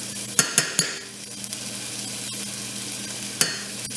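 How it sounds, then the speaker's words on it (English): Garlic oil sizzles steadily in a pan of tomato sauce, a constant crackling fry close by, punctuated by a few sharp clinks of a utensil stirring against the pan. "I'm going to add a little bit more oil, a little bit more garlic oil on that"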